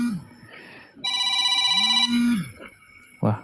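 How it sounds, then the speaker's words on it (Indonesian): An incoming call sets off a telephone ringtone: a bright, electronic tonal burst rings for about a second, surrounded by short, sliding, voice-like sounds before and after. "Mr. Z dapat telepon dari Prof. Ikrar"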